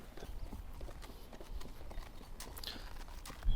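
Horse hooves clip-clopping steadily as the horse is ridden, a continuous rhythmic patter of moderate loudness with faint ambient noise and no clear speech.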